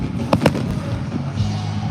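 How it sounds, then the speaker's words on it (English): Fireworks pop outdoors at dusk, two sharp bangs close together followed by a few fainter distant thumps over a steady outdoor background, with no talking. "That's like entirely too early for fireworks."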